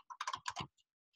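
A few quick bursts of typing on a computer keyboard give close, crisp clacks clustered in a short run, followed by a couple of faint isolated taps in otherwise quiet surroundings.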